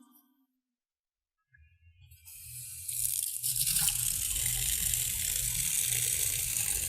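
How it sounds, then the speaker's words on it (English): A water tap squeaks open after a quiet moment, then water starts rushing and settles into a steady, loud gushing flow that continues to the end, with no talk. "So let me just turn the water on."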